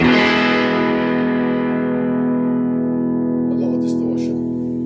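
An electric guitar strums one chord through a TC Electronic Spark boost pedal at full blast, a loud, heavily boosted distorted tone that sustains and gradually decays, with faint fret noise near the end.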